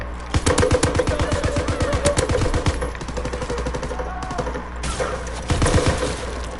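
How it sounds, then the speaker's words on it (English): Light machine gun in a PS4 video game firing loud rapid bursts, with rhythmic shots rattling in quick succession, a short pause, then another burst. "You know the good thing about this light machine gun, it's very, very accurate, but it's not very strong."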